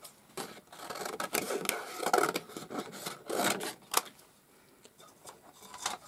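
A piece of card trimmed down by hand during cardmaking, with a run of close, dry rasping and snipping strokes, irregular and fairly quiet, with short pauses between cuts.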